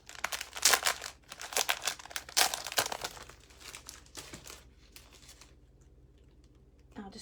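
Designer series patterned paper sheets pulled from a plastic packet, giving close crinkling and rustling bursts that fade into quiet handling near the end.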